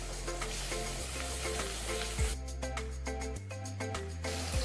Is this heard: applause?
no